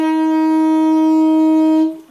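An alto saxophone sounds the note C as one steady, clear, loud tone held for nearly two seconds before it cuts off.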